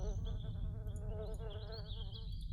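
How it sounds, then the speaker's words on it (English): Insects buzzing in a forest in the video game Riven, a continuous droning hum with a wavering, shimmering high whine layered over it, steady and fairly loud throughout. "Hearing insects."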